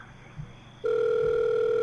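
A phone rings unanswered in The Letter video game, a steady electronic tone that starts abruptly and holds loud and unbroken after a faint thump.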